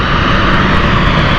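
Aircraft taxiing on the ground at London City Airport, a steady, loud engine roar with a broad, unbroken whine that holds constant throughout, no voices present.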